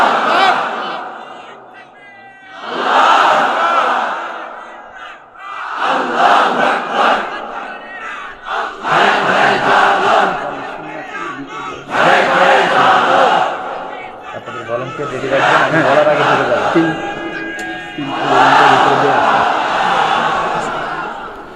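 A large crowd at a Bengali religious gathering chants takbir in loud, rhythmic waves, about seven swelling calls and responses separated by short pauses.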